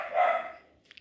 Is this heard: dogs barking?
yes